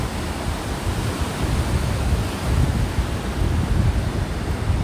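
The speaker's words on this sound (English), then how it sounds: "Well, the ocean is in the background." Steady ocean surf rolling onto a beach near El Segundo and Manhattan Beach, a continuous broadband wash with gentle swells and some wind rumble, no talking.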